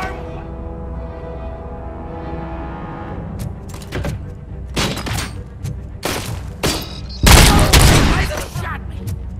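Gunshots ring out in an irregular cluster of several loud, booming cracks, the heaviest coming last, over a steady tonal background hum.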